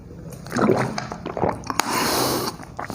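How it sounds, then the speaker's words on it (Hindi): Teacher drinking water during a hot-weather integration lesson, with close wet sips, swallows and a brief snort-like breath, small sloshing and faint room noise between gulps. "मैं पानी पी लूँ थोड़ा सा"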